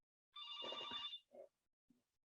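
A landline telephone gives one loud ringing burst of bright, tonal bell trills lasting just under a second, then two brief, fainter echoes of the ring trail off into near silence.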